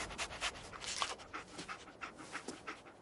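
Dogmeat, the dog companion in Fallout 4, pants in short quick breaths, a soft rhythmic huffing close by that carries on steadily for several seconds with no voices.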